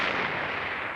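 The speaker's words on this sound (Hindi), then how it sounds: "ये बम की आवाज थी मुझे लगता है।" A dense, roaring blast of noise from a bomb explosion or Diwali-style fireworks, loud and sustained without breaks, with no voices heard.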